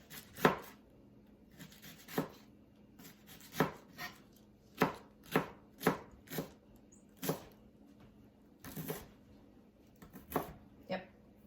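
A knife slices cabbage thinly on a cutting board, giving a dozen or so crisp, evenly spaced chops, close and distinct, with quiet background talk between cuts.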